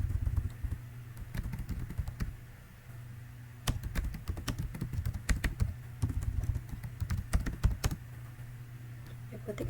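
Code being typed on a computer keyboard, a steady run of close, crisp key clicks and taps with uneven bursts and short pauses over a low background hum.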